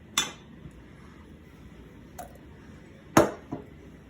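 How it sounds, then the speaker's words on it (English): A knife cores and chops apples for homemade applesauce, producing a few sharp, sparse clicks and knocks against a board or bowl, separated by quiet pauses in a calm kitchen. "keep coring your apples, putting the cores inside one bowl because you do want to keep those, and then chopping the bits"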